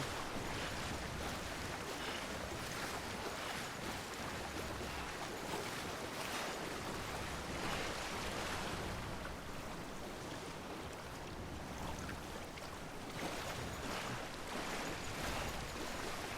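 Ocean surf washes continuously in the Death Stranding video game as a character walks into the water, a steady wide roar of waves with wind mixed in and no pauses.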